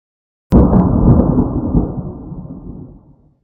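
One heavy thunderclap in a storm breaks out of silence with a sudden crack, then rolls as a deep rumble that fades over about three seconds, loud and near.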